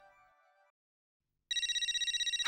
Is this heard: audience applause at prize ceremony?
no